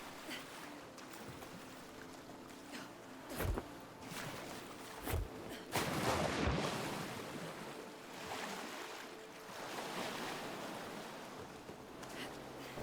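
Deep water and waves in the video game Nightingale: a steady rushing surf wash with swelling surges and a few sharp splashy thumps, moderately loud and continuous, with no talking.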